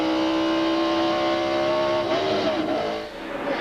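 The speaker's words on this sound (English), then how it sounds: "You heard McLaughlin sound like he was maybe downshifting there" A NASCAR Busch Series race car at Watkins Glen in 1997 holds a high, steady engine whine at high revs, then the pitch drops and wavers as the car shifts down, heard from onboard.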